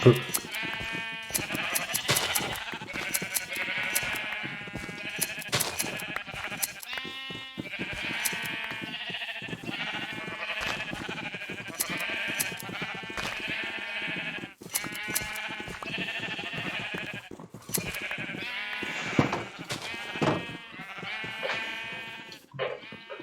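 Sheep bleating in Minecraft, a chorus of repeated wavering bleats overlapping in a lively, almost musical run, close and fairly loud, with short gaps between bursts.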